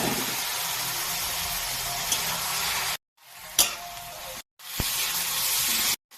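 Banana flowers hit fried spices in a hot pan and set off a loud, steady sizzle, close by, broken by two short pauses and a few sharp clinks as the cooking carries on.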